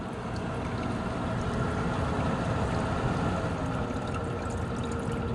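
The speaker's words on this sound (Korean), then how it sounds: "이 차가운 물이 올라갔다 내려왔다 순환을 하면서" Water circulating inside an evaporative air cooler, pumped up and falling back down in a continuous, even rushing and trickling wash heard close by with no pauses.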